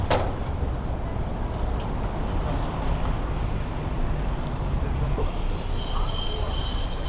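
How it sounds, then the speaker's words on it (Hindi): Trains roll through Nagasaki railway station, a steady loud rumble of wheels on rails with metallic squealing and a faint voice in the background. "तो ये इधर नागासाकी का रेलवे स्टेशन"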